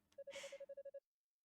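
A mobile phone shaped like a seashell rings in the video game Ys Origin: a burst of chime, then about ten quick, even electronic beeps that stop abruptly into silence.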